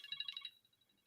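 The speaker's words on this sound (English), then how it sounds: "My phone was going off." A phone's electronic ringtone trills in quick repeated pulses for about half a second, then fades, fairly faint and alone, as a telemarketer calls.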